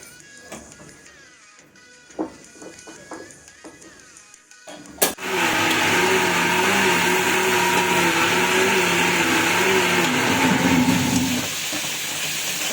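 A mixer grinder grinding masala for crab and prawn dishes starts with a sharp click after some quiet kitchen clatter, then roars steadily with a wavering motor whine for several seconds before easing off near the end.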